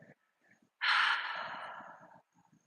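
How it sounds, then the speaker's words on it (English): A single long, loud exhale during a yoga class, a forceful breath that swells quickly and then tapers off gradually over about a second and a half, framed by softer breathing and quiet rustling. "Big exhale."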